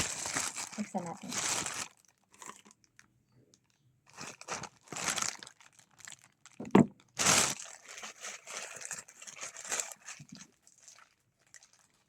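Plastic delivery mailer from a Shopee order, shipped by Flash Express, being torn and opened to get at a pair of sandals: bursts of crinkling and ripping, loud and close, broken by pauses.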